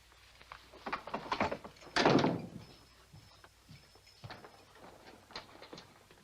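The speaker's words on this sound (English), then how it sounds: "Lock the door and don't let anybody else in." A door is shut with a loud thunk midway, preceded and followed by softer knocks and clatter of handling and locking, in a quiet western film scene.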